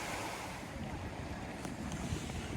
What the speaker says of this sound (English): the marina at Whitehaven, or the harbour